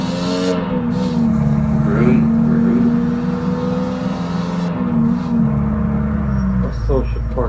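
A car engine in the horror game Coffin Mall hums and revs steadily throughout as the vehicle drives along, loud and continuous, with speech in the background.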